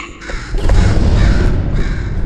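A bird caws loudly and harshly in Portal 2, one continuous close call with no other sounds.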